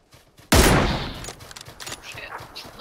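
Gunfire in a live-streamed video game: after a few soft taps, a sudden loud burst of shots erupts and trails off into scattered lighter pops and rumble, with faint voices in the background.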